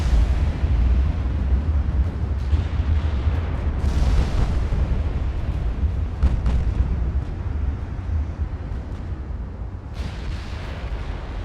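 Battleship 15-inch and 8-inch guns firing in Ultimate Admiral: Dreadnoughts: heavy booming salvos over a constant low rumble of sea and engines, with a couple of sharper blasts standing out, no talking.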